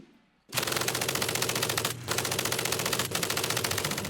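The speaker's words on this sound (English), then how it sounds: "MG-42 machine gun." A World War II MG-42 machine gun fires long, rapid bursts, a dense ripping roar broken by two brief pauses.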